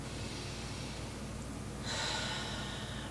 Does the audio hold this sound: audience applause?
no